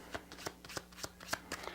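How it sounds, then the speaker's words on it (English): A deck of playing cards is shuffled by hand, a quick run of crisp riffling snaps and flutters, close and fairly quiet. "let me mix up the cards a little bit more"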